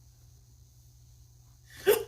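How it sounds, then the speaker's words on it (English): A single sharp hiccup bursts out near the end, preceded by a quiet stretch with a low steady hum in the background. "I hate hiccups."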